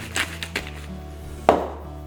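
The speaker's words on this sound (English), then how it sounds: "cut up some chives" A knife chops fresh chives on a board in a few sharp taps, two light cuts followed by one louder, firmer chop near the end, close up with no talking.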